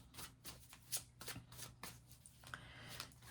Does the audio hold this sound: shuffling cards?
yes